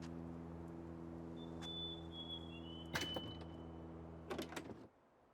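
Locked shed door tried in the video game Tell Me Why: a faint whine drifts over a constant low hum, then a sharp rattling jolt and, later, a second burst of clunks before the background cuts out.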